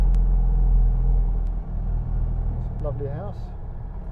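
A Citroen 2CV labours up a steep single-track hill in first and second gear with a low, heavy engine rumble that eases slightly partway through, while a person speaks briefly.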